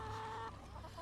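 A chicken clucks close by in a short burst of throaty, tonal notes followed by a few quieter clucks, faint overall, with no talking.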